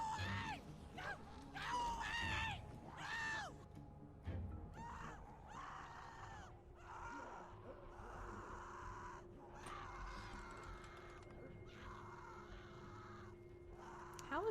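Screams and pained cries from characters in The Walking Dead video game rise in several bursts over a dark, tense soundscape with background noise and a low hum.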